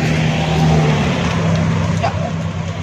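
A car passing by on a street during an evening walk, a close, steady engine rumble and tire roar that fills the whole moment, loud and continuous.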